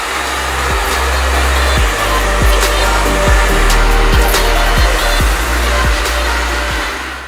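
A hair dryer runs steadily while drying hair, a constant loud whir broken by regular bumps and knocks as it is handled, with no talk.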